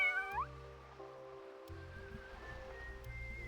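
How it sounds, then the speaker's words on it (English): A cat meows once, short and rising, in the video game Chocobo's Mystery Dungeon, over quiet steady background music with soft low tones. "What's up, cat?"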